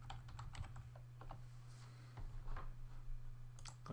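Fast, irregular clicks of keys on a computer keyboard as a sentence is edited, steady and close against a constant low electrical hum, with no one speaking.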